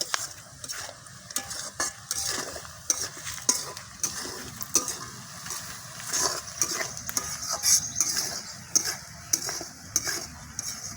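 Potato mashed and stirred in a pan with a utensil, repeated close scraping and knocking strokes over a soft sizzle, no voices.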